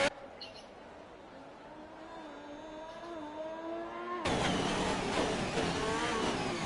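A Ferrari race car in a racing video game pulls out onto the track, its engine note rising steadily and then surging into a loud, dense roar, with commentary voices running underneath.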